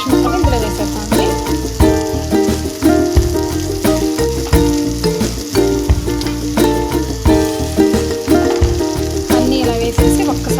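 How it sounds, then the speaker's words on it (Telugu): Marinated fish pieces frying in masala for an Andhra-style Pandugappa fish curry, giving a steady loud sizzle with crackling bursts throughout and no talk over it. "ఫిష్ ముక్కలు ఇందులో వేసేద్దామండి."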